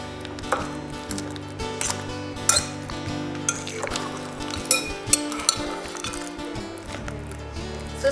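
Ripe bananas being smushed and stirred in a bowl for an old-fashioned banana bread, giving soft, irregular squishing and scraping with light clinks of a utensil against the bowl, moderately close and without talk.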